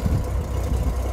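A Honda Goldwing GL1500 motorcycle engine idling steadily after an alternator fitting, a low continuous rumble heard close and loud with no voices.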